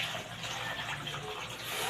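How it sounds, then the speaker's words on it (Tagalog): A kitchen tap runs steadily while vegetables are washed for dinner at home, a soft continuous hiss and splash heard at moderate distance with no voices. "Hugasan ng gulay."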